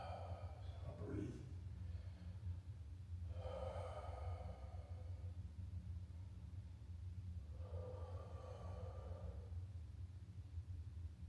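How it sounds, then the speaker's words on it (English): A person takes slow, deep breaths while resting during a stairwell workout while injured. Three long airy breaths are spaced several seconds apart, close and fairly soft over a low steady rumble. "I'll breathe."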